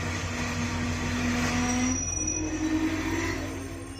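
A train pulls into Churu Junction railway station on the Ratangarh–Bikaner line, its wheels squealing steadily against the rails over a loud rumble that slowly eases off, with no talking.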